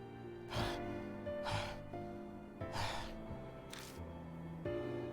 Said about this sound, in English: The only sound that can be heard is our gasps for breath as we sit in the darkness